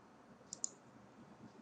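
Two quick, faint mouse clicks sound close together, a crisp double tick against a quiet room background.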